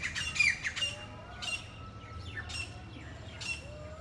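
Birds in Vrindavan, where peacocks and parrots live, give sharp repeated squawks and chirps at a moderate distance, several calls spaced across a few seconds over a low background rumble.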